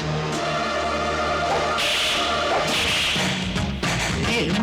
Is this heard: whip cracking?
yes